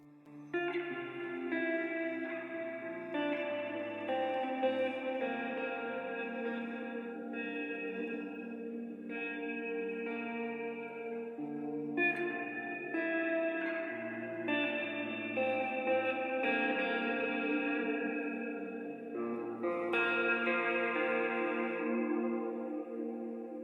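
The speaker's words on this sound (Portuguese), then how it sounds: "aqui você percebe que o reverb é bem mais longo, ele tem uma ambiência que tem um sustain muito grande" Electric guitar sent through the Cloud preset on an Ampero Stomp II, a long worship-style ambient reverb, rings as sustained chords and notes that blur into a wide, washing tail, played continuously and alone.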